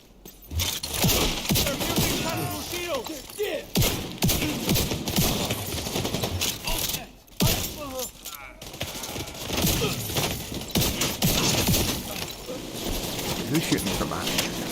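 Gunfire in the shooter game Division 2 crackles in dense rapid bursts around the player almost continuously, with voices talking over it.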